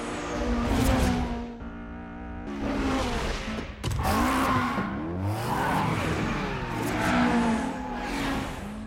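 An AE86 races downhill on a mountain pass with its tires squealing through the corners, engine revving and rising in pitch, with loud, sustained screeches that repeat in waves as the car slides through the bends.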